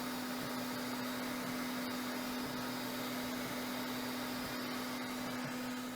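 A 3D printer hums steadily as it lays material over a form, a constant, loud mechanical drone with a fixed motor tone and faint clicks throughout, with no talking.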